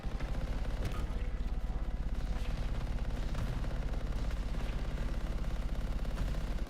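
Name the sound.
gunfire from elementals in video game Anthem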